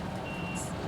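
A bus sounds a high reversing beep nearby over a steady rumble of engine and traffic, with a short bright tone toward the end of a brief moment.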